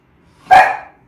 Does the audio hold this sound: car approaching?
no